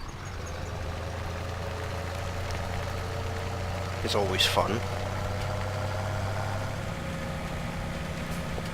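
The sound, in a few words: tractor engine idling while parking, Farming Simulator 17 video game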